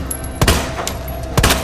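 In the Resident Evil 2 Remake, Leon fires two loud, close gunshots about a second apart, each a sharp booming blast, over a constant game backdrop and with no talk.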